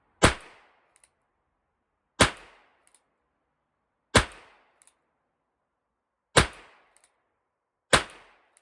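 A Ruger Wrangler .22lr revolver fires Remington Yellow Jacket rounds outdoors: five sharp, fairly quiet cracks spaced about two seconds apart, each with a short decaying tail and a faint metallic click afterward, with no talk.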